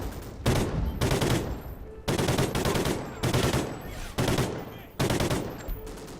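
FAD bullpup rifle firing in Call of Duty: Ghosts, five loud, sharp bursts of rapid automatic fire separated by short pauses, each burst trailing off in a brief echo.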